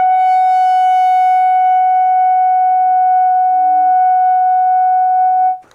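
A clarinet holds a single soft, high note, around a high G sharp, as a warm-up. The tone is steady, pure and sustained, continuing unbroken for several seconds before cutting off cleanly, with no voices heard.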